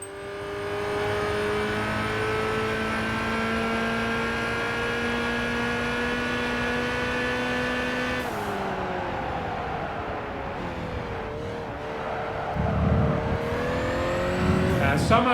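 Race car engines from a Ferrari Enzo and a rival car in Gran Turismo 5, a loud, sustained high-revving whine that climbs and drops through gear changes, with a sharp shift partway through and more engine rumble near the end.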